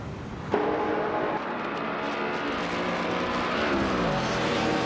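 Race cars in a video game race, among them a 2017 Ford GT, give sustained engine roar with rising and falling pitch as they accelerate and pass. A sharp burst comes at the start, then a dense, continuous drone.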